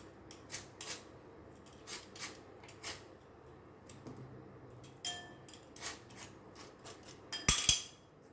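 Soft, repeated scraping strokes as the inside of a bitter gourd (karela) is scraped out, a rhythmic series of brief rasps close up, ending with a sharper clatter, no talking.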